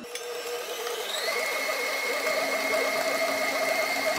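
A stand mixer kneads bread dough for kaiser rolls at medium-low speed, its motor whining steadily with a high tonal hum that rises slightly in pitch as it is turned up, alone and continuous.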